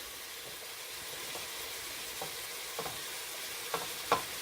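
Ground meat with fresh rosemary left to brown undisturbed in a pan for hamburger soup, a constant low sizzle with occasional sharper spatters and pops growing louder toward the end.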